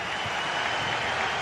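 A football stadium crowd cheers late in a match, pushing the team on with a sustained, loud roar of voices and scattered clapping that never lets up.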